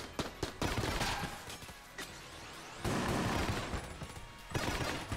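Rapid bursts of gunfire from a weapon in the video game Enter The Gungeon, dense and loud, with repeated shots and a few louder blasts spread across the stretch and no talking.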